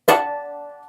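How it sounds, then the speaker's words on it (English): A single bright bell-like harmonic chimes on the 7th fret of a stringed instrument, a clear pluck that rings and slowly fades over about a second. "Play harmonics on the 7th fret,"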